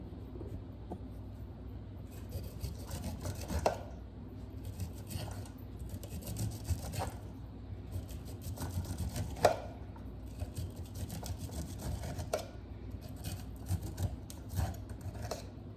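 Corn kernels being cut off the cob with a hand knife, a steady run of close scraping, slicing strokes with occasional sharper clicks, repeating irregularly over a low background hum.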